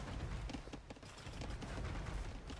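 Hand cannon gunfire in an Age of Empires match, with camel archers attacking hand cannoneers: a dense clatter of overlapping shots and battle noise that keeps going without a break.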